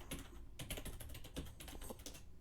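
Rapid clatter of fingers typing on a computer keyboard, close and clear, with irregular bursts of keystrokes and short pauses, no voices.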